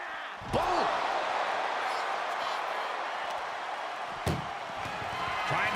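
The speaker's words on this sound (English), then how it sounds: "Trying to at least slam one door shut" An ambulance door is slammed during a WWE Raw ambulance wrestling match in an arena, with two loud metallic bangs a few seconds apart over a steady roaring crowd and excited commentary.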